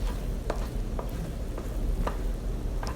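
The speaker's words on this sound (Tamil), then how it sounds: "இன்னும் ஒரு 2 மினிட்ஸ் நம்ம மிக்ஸ் பண்ணிகிட்டே இருந்தோம்னா பேனில் ஒட்டாமல் வருது" Halwa mixture is stirred in a pan on the stove, with soft scraping strokes against the pan at a slow, uneven rhythm over a constant low sizzle, close and fairly loud.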